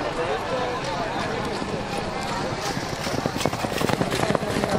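Horses carrying riders arrive at a tent pegging event in Pakistan, their hoofbeats running as dense thudding under a loud, constant crowd and announcer din that gets louder toward the end.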